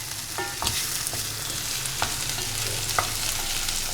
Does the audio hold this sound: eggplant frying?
yes